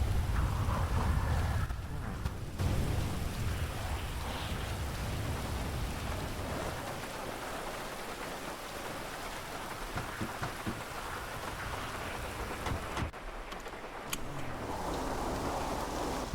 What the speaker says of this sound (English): it's thundering and lightning now